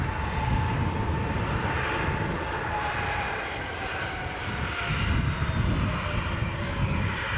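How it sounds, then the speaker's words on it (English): A Ryanair Boeing 737 departing Newcastle airport, its engines producing a loud, steady, broad roar that holds for several seconds, with no voices heard. "we've just got now a Ryanair Boeing 737 making its departure to Alicante International Airport"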